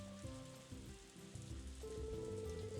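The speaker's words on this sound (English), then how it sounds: "At least the crops are enjoying the rain." Rain falls in a farming video game, a soft continuous patter spread evenly across the scene, underneath gentle tonal game music with sustained notes and no voices.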